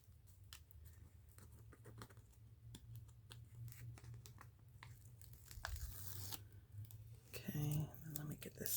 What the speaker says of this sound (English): should peel the backing off.